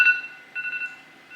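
Faulty phone emitting electronic beeps as it shuts off, a sharp onset and then a few thin, close tonal pulses that fade in and out.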